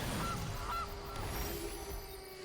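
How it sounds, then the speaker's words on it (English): A goose honks twice in the MTG Arena card game, short nasal calls standing out over a steady layer of game background sound. "Goose."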